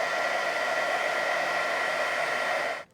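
A handheld heat embossing tool blows hot air over embossing powder on a card, a steady, loud whirring hiss that holds for nearly three seconds before cutting off abruptly.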